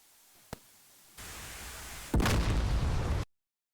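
A volley of naval strike missiles launches in the DCS World combat flight simulator: a faint pop, then a sudden roaring rush of noise that steps up into a louder sustained blast before cutting off abruptly.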